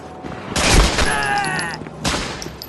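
Gunfire from the Medal of Honor Frontline video game comes in two loud bursts of rapid shots with ringing echoes, separated by a brief lull.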